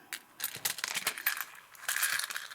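Old buttons and small glass pieces clatter and rustle as they are dropped into a plastic sorting container, a close run of quick clicks and crinkly scraping bursts.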